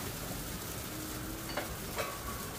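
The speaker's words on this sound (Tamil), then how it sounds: "இதில் பணியாரம் ஊற்றி சுட்டு எடுத்துக்கலாம்" Kara paniyaram batter fries in a paniyaram pan with a steady soft sizzle and crackle, plus a couple of faint clinks of a utensil near the end.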